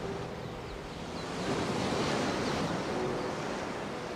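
Ocean surf washes onto a beach in a TV show scene, a steady broadband roar that swells slightly around the middle and holds on without any voices.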